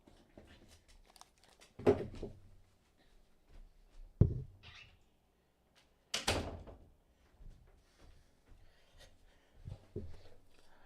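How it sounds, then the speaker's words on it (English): A room door is pushed shut with a couple of distinct thumps and latch clicks, close by in a quiet indoor space with faint shuffling between the hits. "Let me close my door"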